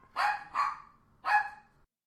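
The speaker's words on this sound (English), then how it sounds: "I got 3 dogs wanting to play with a dog that doesn't want to do anything." Three quick barks from dogs at play, near and fairly loud, in a bright, evenly spaced burst with short pauses between them.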